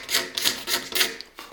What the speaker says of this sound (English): I'm going to just take my pocket knife, kind of scrape this lower ring, get some of that pithy stuff off